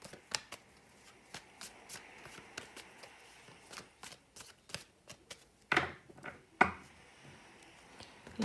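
Tarot cards are shuffled by hand in quick, crisp, rhythmic riffles and taps, close and fairly quiet, with a couple of sharper slaps near the end.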